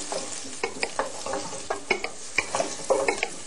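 Onion sizzling and frying in a pan while being stirred, a steady close crackle broken by repeated scraping strokes from a spoon.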